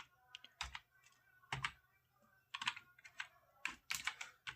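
Quiet computer keyboard typing as a captcha code is entered, with irregular clusters of crisp key clicks separated by short pauses, close and soft, with no voices.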